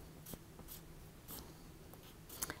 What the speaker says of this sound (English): So first we want to write today's date down here.